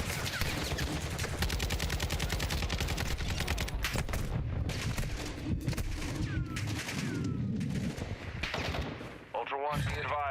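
Dense automatic gunfire and rapid shots in the Black Ops 6 video game, a loud, continuous rattling barrage that lasts nearly the whole stretch and then briefly breaks near the end, with game voices faintly underneath.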